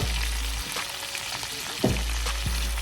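Seasoned cabbage hits a hot pan with a loud, steady sizzle and crackle that continues throughout, with a brief clatter partway through and no talking.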